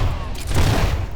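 Gunfire in Fable III crackles as a short, dense volley of booming shots, loud and close, packed into about a second.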